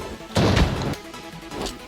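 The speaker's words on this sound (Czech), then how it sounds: "Jo, hodil tam granát, bacha." A heavy grenade blast in the shooter game Arena Breakout Infinite, one loud close crashing burst followed by a decaying rumble and a smaller thud.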